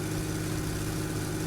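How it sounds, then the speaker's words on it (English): A 400-horsepower fishing boat engine running at full speed in a Barents Sea fishing simulator, with a steady, loud, droning hum that holds constant throughout with no other sounds. "you really do need that 400 horsepower engine for the weight of the fish"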